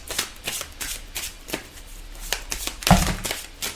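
Tarot cards being shuffled by hand, a run of quick crisp riffles and slaps close up, ending in a sharper snap of cards near the end, with no talking.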